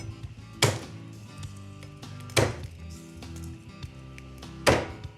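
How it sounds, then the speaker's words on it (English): Garlic cloves smashed on a kitchen board: three sharp, solid thunks spaced about two seconds apart, close and distinct against a quiet background. "Put our garlic down and just separate 4 cloves. And just give them a little smash."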